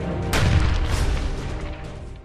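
A grenade thrown from inside a house by a militant during a counter-terror operation goes off as a single loud, close boom with a sharp onset, then a long rumbling decay and scattered debris noise.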